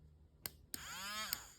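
A small battery-powered spice grinder used to blend fly-tying dubbing at a tying desk: a couple of sharp clicks, then a short whirring motor burst that rises and settles before a final click, close and fairly quiet.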